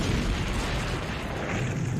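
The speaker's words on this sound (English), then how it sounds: "Lights the match, throws it in, and then I guess the well just explodes." A well explodes after a lit match is thrown in, a loud sustained roaring blast with heavy rumble, close and continuous.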